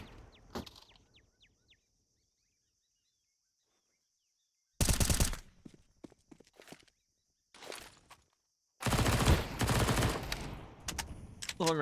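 MP9 submachine gun fire in a competitive Counter-Strike match on the Ancient map, heard as loud rapid bursts with gaps between them, mixed with footsteps and other distant game sounds.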